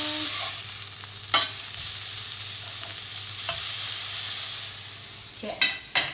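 A flathead fillet sizzles in a hot pan, the crackle of frying continuing steadily while a spatula scrapes underneath and flips it, with a few sharp clatters of metal against the pan.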